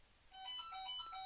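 A single short burst of a phone ringtone plays faintly in the background. Its chirpy melodic tones start up quickly and hold briefly before the call is cancelled.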